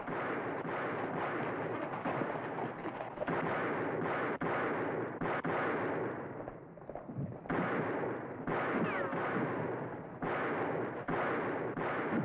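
Sustained volleys of Wild West gunfire, dense overlapping shots and booming reports filling the whole stretch, loud and close with only brief lulls between bursts.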